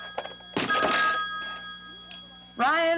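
Telephone ringing in a busy Senate campaign press office, an electronic ring standing out over a speaking voice and other brief background sounds.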